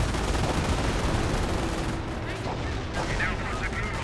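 Battle gunfire in the World War II strategy game Company of Heroes, dense continuous shooting and rattling under a mix of game sounds, with a faint voice partly audible.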